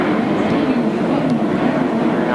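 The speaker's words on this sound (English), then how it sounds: "See that helicopter going across again." A helicopter flying across overhead at a grass-track sidecar race meeting, a steady low droning roar that holds even and fairly loud for the full stretch.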